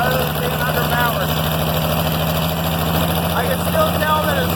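An IH Farmall 706 tractor engine runs steadily at about 1200 RPM with a lean mixture, giving a loud, continuous low rumbling drone close by while a voice talks faintly over it.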